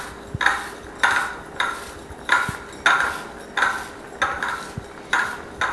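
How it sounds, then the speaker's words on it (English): Butter, paprika and breadcrumbs get mixed into a crumb topping with a utensil scraping a bowl in about ten regular strokes, each a gritty scrape with occasional metallic clinks, close and fairly loud with no talk. "Mixing it until there's a nice even semi-clumpy texture to them."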